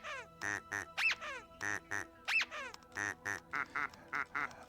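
A plastic duck in the video game Linkito quacks over and over in quick bursts, with some rising squeaky honks mixed in, close and clear with no talk over it.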